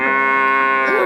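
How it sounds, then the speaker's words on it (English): A cow moos in one long, loud, sustained call that stays steady and close throughout, with no talking over it. "Cows and bulls are called cattle, and when they have a baby, we call it a calf."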